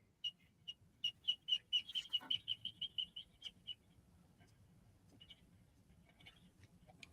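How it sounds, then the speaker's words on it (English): Markers squeaking on paper, a fast run of sharp, high, chirp-like squeaks in quick rhythm that fades into a few sparse faint squeaks, close and quiet with no talking. "no, this is his markers squeaking"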